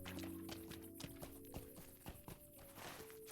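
Hooves of a horse steed clip-clop in a fast, steady rhythm in the Lord of the Rings Online video game, with a sustained tonal background beneath the running hoofbeats.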